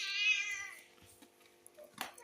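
A cat meows once, loud and drawn out, from beneath a home fish tank. Faint rustling and small knocks follow in a quiet room.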